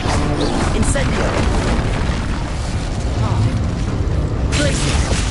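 Incendio fire spell cast during a Hogwarts Legacy combat sequence, a dense, continuous roar of fiery bursts and booming effects that runs loud and unbroken throughout.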